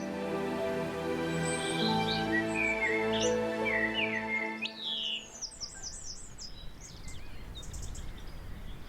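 Birds sing in the Rudrón valley canyon, with repeated chirps, trills and whistled calls. They are set over a steady tonal musical background for the first five seconds, then carry on more sparsely over a soft, broad wash of outdoor noise.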